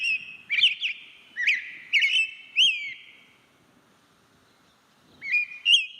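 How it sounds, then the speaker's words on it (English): An American robin sings outdoors, a clear whistled run of several warbling phrases in quick succession, then a short pause and two more phrases, close and distinct. "The robin is quite a musical bird."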